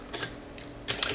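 Keys clatter on a computer keyboard as an IP address is typed in, a short quiet burst of taps, a pause, then a quicker cluster of keystrokes.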